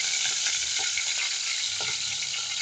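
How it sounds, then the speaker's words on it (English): Chicken gizzards fry in hot oil with a dense, continuous sizzle, broken by occasional soft pops and stirring sounds, close and steady for the whole clip. "you put it in your hot oil, just like this"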